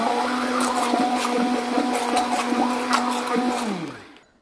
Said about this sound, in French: Et nous passons à l'émulsion de la sauce avec notre mixeur.